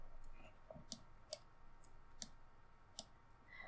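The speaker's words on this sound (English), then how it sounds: "and left click" Crisp, faint mouse clicks sound in a quiet room while working in 3D modeling software, about five sharp isolated taps spread a second or so apart.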